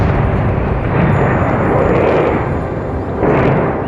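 A huge blast at Chernobyl's reactor 4, a loud sustained rumbling roar that surges and swells in waves, dense and continuous across the whole moment.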